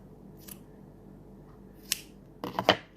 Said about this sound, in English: you cut a hole here